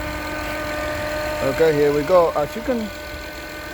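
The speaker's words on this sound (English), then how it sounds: "The engine is running, but it's making that noise. And that noise is coming from the alternator." An Acura or Honda engine idles with a noisy alternator, giving a steady, even hum and faint whine that runs throughout while someone talks over it.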